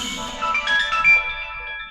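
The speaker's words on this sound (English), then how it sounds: "that was my alarm clock letting me know I gotta take my meds" An alarm clock rings as a medication reminder, a tonal electronic chime with sustained high notes over roughly two seconds at moderate level, with no one talking.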